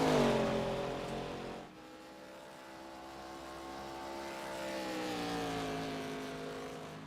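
ARCA series stock cars race on track, their engines droning and shifting in pitch as they pass at some distance, fairly faint and without talk.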